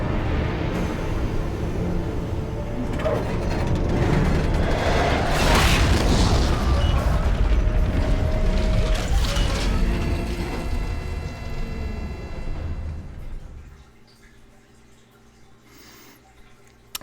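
An armature powering up in Dawn of War 2, heard as a deep, booming rumble with humming tones that builds and holds loudly, then dies away to a faint hum.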